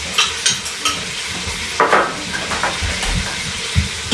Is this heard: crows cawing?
no